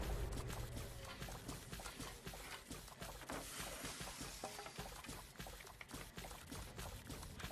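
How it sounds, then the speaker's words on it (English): Water being boiled while crafting in Fallout 76, heard as a steady bubbling, pouring wash that stays at an even level throughout with no voices. "let's boil some water"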